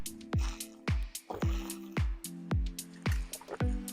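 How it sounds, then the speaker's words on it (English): Close-up gulps of water swallowed from a water bottle, about seven soft, wet swallows in an even rhythm, each followed by a brief pause. "Let's take a drink before we start"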